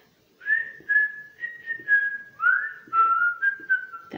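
Someone whistles the Kill Bill tune, a series of clear sustained whistled notes with a short upward slide partway through, close and fairly loud with no talking over it.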